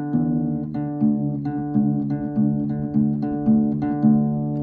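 A guitar's low E string is plucked repeatedly in a slow, even rhythm, each ringing note decaying before the next as it is tuned down toward drop D, with no speech.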